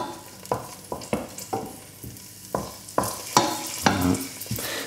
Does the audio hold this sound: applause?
no